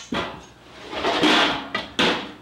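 A kitchen drawer is pulled open with a sharp clack, followed by rattling and sliding, then two more distinct knocks toward the end, close and fairly loud, with no talking.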